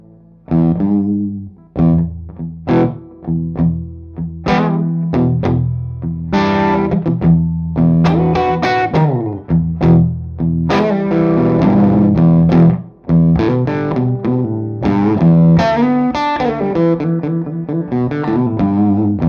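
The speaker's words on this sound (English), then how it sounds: "we're going to start today with the tone of the amp, of course, and the P90s in here, you'll hear those" Electric guitar with P90 pickups played through an amp's lead channel with a dirty tweed-style edge, loud distorted chords and riffs played alone, with sharp pick attacks and a brief pause midway.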